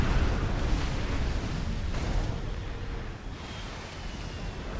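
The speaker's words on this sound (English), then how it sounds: "The bombs fall" Bombs dropped by bombers in the Forged Alliance strategy game go off in a dense rumbling roar, a series of heavy overlapping blasts that swell and fade over a few seconds with no voice.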